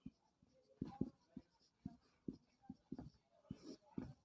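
Chalk taps and scrapes out a chemical equation on a classroom board in short, uneven strokes, close and distinct, with quiet gaps between marks.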